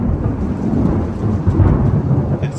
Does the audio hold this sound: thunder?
yes